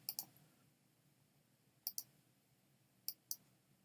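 Computer mouse clicks while placing points with the Photoshop magnetic lasso tool: three quiet pairs of crisp, close clicks spaced about a second apart against a faint hiss.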